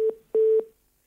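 A telephone busy tone heard after a viewer's call drops during a Hindi TV news phone-in: two short, clean electronic beeps at a steady pitch, separated by a brief gap, with no other sound behind them.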